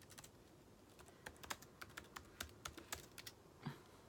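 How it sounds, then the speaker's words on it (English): Keys clack on a computer keyboard in quick, uneven bursts of taps, close and fairly quiet, with no talking. "I can't talk and type at the same time."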